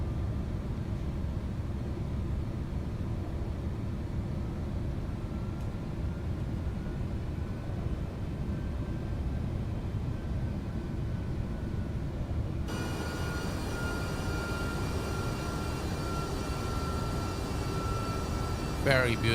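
MD-11 trijet engines spool up to takeoff power in a flight simulator, a steady broad roar that swells partway through into a louder whine with tonal hums, while someone talks over it.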